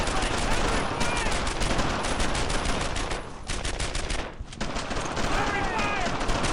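Brothers in Arms: Earned in Blood game gunfire in a German-occupied French village, with dense, continuous rapid machine-gun and rifle fire, loud and close, and soldiers shouting over it.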